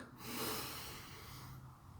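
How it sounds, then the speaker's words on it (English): A single slow, deep breath is drawn in during meditation, heard close and soft as a steady airy rush that swells and then fades over about two seconds. "breathe in"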